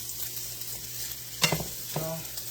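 Sweet Italian sausages fry in a pan with a steady low sizzle, broken by a couple of brief clatters, close and moderately quiet, with no voices.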